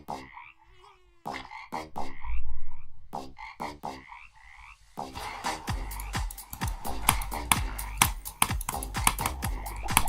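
Frog croaks in a frog-themed Geometry Dash level, a series of sharp clicky croaks in bursts over a steady musical beat, close and prominent with no talking.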